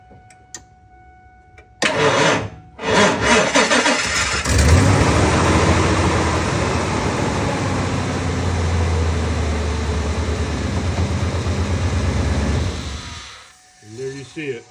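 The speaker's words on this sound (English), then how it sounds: "Go ahead and give it a crank" A 2000 Ford F-350 with its AC compressor bypassed cranks and catches, the engine starting loudly up close and running steadily for several seconds before shutting off, with voices talking around it.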